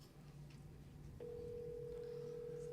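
A phone line picks up with a steady, fairly loud dial-type tone that starts partway through and holds to the end, after faint low hum and a brief click, placing a call to Wayne Rollins.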